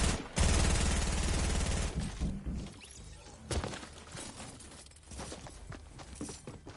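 Gunfire from a gold P90 in a video game rattles out as a loud rapid burst at the start, then fades into scattered thuds and bangs.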